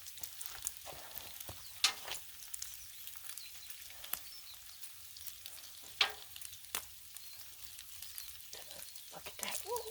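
Bacon sizzles on a Blackstone griddle with a steady, soft crackling hiss, dotted by a few sharper pops and spatters, continuous and fairly quiet with no voices.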